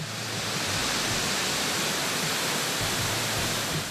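Waterfall on the Corumbá river, falling in its natural bed, roaring as a steady, dense broadband rush that fills the whole stretch without a break or voice.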